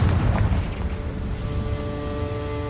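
Confringo blasting spell explosion in the Hogwarts Legacy game at Rookwood Castle: a heavy, booming blast at the start that rolls into a sustained low rumble with a tonal ringing layer, loud and close, no talking.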